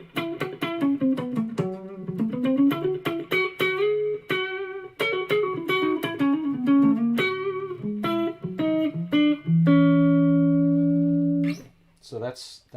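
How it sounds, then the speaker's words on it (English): Electric guitar on its neck pickup with the tone knobs fully up, played as a run of bright single notes and chords, then one long sustained chord ringing out before a short pause; close and clear, with no talking. "So you can hear it's a pretty bright sounding guitar."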